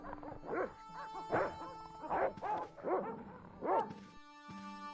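Dogs in the Broken Sword video game bark and yip in a series of sharp, repeated calls, fairly close, over a steady tonal game music bed.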